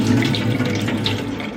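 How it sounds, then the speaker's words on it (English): Short grain rice being washed and drained in water, a close, steady rush of running and sloshing water like a tap filling a bowl, continuous and fairly loud. "Wash and drain, wash and drain."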